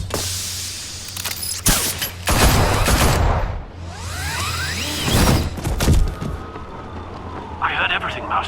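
Henchmen open fire on Batman in an animated Batman film set in Gotham: bursts of gunshots and a fusillade crack through a busy action mix with sirens, whooshes and shattering, while voices shout over it.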